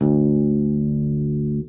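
One plucked note on a bass guitar's open D string sustains clearly on its own, holding steady before cutting off abruptly.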